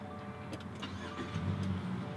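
A 2018 Subaru Crosstrek 2.0i Limited is push-button started, and its engine catches and settles into a low rumble under a steady hum, heard from inside the car.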